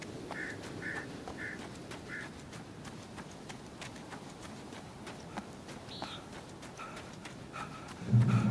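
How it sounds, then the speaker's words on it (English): Ambient birdsong in the video game Alan Wake, a few short chirps and calls scattered over a steady background hush, fairly faint, with a low thump near the end. "Birds."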